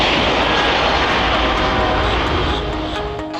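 A fixed-wing airplane's engine roars loud and steady throughout, a broad sustained drone at a plane-spotting location, easing slightly toward the end.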